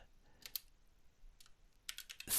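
Keys on a computer keyboard are tapped in a few scattered clusters of quick, light clicks, close by, with quiet gaps between the bursts and no speech.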